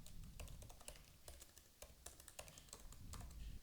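Quick, light clicks from a computer keyboard come in uneven bursts as someone types code, close and fairly quiet over a soft room background, with no speech.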